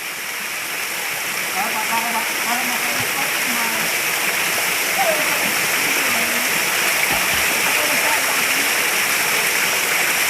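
Spring water flows steadily in a broad rushing wash near a swimming spot, with light splashes from people swimming, while voices talk and call out over the constant stream.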